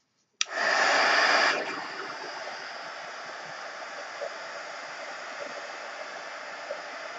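A hair dryer dries paint on a Christmas canvas ornament, starting abruptly with a loud rushing burst, then settling into a steady, slightly softer whoosh of airflow that runs on without pause.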